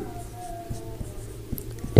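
Pen or marker writing on a board in a standard costing lecture, faint scratchy strokes and light taps under low room hum, with no talk heard.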